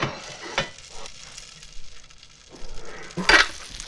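Apples tipped into butter in a cast-iron skillet inside a Gozney Dome pizza oven give a steady sizzle and frying crackle. A louder burst of spitting and a clatter come near the end.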